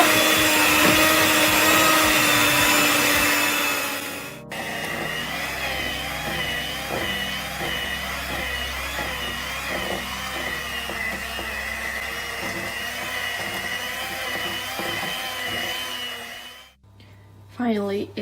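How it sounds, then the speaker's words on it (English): An electric mixer whirs steadily while beating cake batter with apples and walnuts to be added, a continuous loud motor drone lasting most of the clip after an opening stretch, then cutting off near the end. "the mixer and we start mixing"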